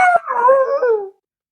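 A single dog howls close and loud, a wavering, rising then falling tonal wail that lasts about a second before cutting to silence.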